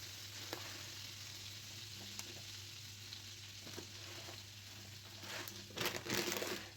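Dry oats tipped into a pan of melted butter, giving a faint, even sizzle with light crinkly rustling that grows slightly busier toward the end.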